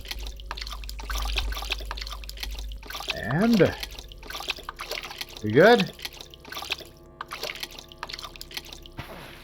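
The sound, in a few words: dripping water in The Dark Mod video game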